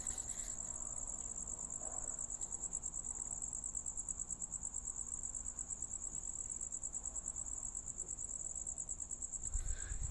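A steady, high-pitched cricket chirp repeats without pause in a rhythmic trill, bright and constant against a quiet household background.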